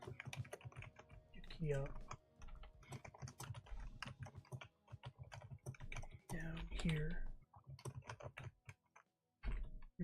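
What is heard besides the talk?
computer keyboard typing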